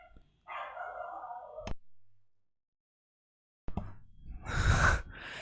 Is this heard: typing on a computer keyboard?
no